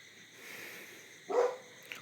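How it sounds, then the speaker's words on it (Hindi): A single short dog bark rings out at moderate distance against quiet background hiss, followed by a faint small yip a moment later. "ये कुत्ता भी क्या भूक रहा है इधर"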